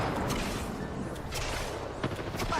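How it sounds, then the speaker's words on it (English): Apex Legends gunfire erupts in quick bursts of sharp shots, some overlapping into a rattling fusillade at moderate volume against steady game ambience. "They're shooting at me."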